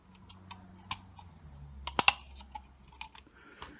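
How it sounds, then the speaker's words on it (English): A plastic prop guard snaps into place on a KY101 quadcopter, a $20 beginner trainer drone; a few sharp close plastic clicks cluster together among lighter scattered ticks and handling noise, with no talking. "you just grab the prop guard here, okay, face it up like this, and then just click it into place"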